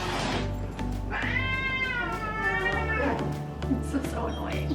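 Household cats meow in long, drawn-out wailing calls, loud and close, while people talk over them in a home.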